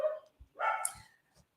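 A big, loud-voiced puppy barks at someone passing the window: one sharp bark, a brief pause, then a longer, louder bark trailing off with a faint final yip, close and alone.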